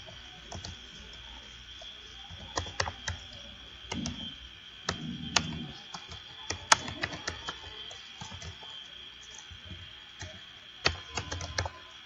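Names being typed on a computer keyboard: irregular bursts of close, crisp key clicks with pauses between words, over a faint steady background hum.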